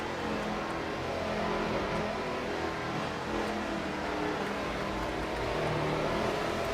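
At a racing championship in Miami, a pace car drives with a steady, moderately loud engine drone that rises slightly in revs and sounds a little distant, with no voices.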